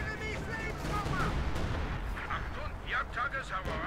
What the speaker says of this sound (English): And a bombing strike as well on the Pack 40